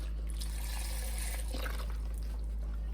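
Broth pours from a 4-cup box into a soup pot for stuffed pepper soup, a steady liquid splashing and trickling that runs for a few seconds at close range.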